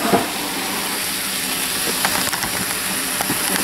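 Hamburger meat frying in a pan, a continuous close sizzle and hiss with scattered pops and faint scraping, no talking.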